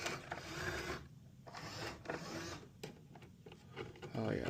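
A print shop printer running again after a jam is cleared, giving a steady mechanical whir and rattle with rhythmic clicks, close by and moderately loud, with faint background speech.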